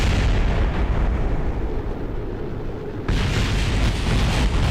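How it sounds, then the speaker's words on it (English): A rocket blows apart in Kerbal Space Program as a loud, continuous rumbling roar that dips briefly and then surges again, dense and booming with no voices over it. "You know you're going well when you're exploding."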